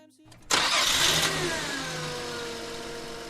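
A car engine cranks and catches, then surges into a loud rev that settles into a steady, fading idle, close by inside the vehicle.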